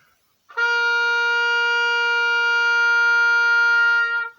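A single sustained oboe note, B flat, held steadily for about four seconds at even loudness in a quiet room, with a clean start and release and no talking.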